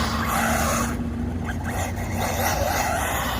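A Team Corally Syncro 4 radio-controlled car drives hard with tires scrabbling and skidding, a continuous dense buzz of motor and gravelly tire noise filling the whole stretch without talk.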